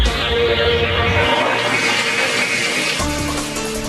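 A low-flow toilet in a skyscraper restroom flushes with a loud rushing gush that settles into a steady refill hiss, close by and continuous with no talk.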